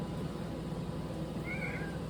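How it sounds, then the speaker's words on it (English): A pet cat meows once, a short rising call standing out over steady room noise with no voices. "Sorry guys, my cat, she wanted to come say hi. Meow."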